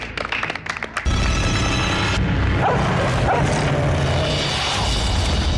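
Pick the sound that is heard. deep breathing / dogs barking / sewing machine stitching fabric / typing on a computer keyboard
dogs barking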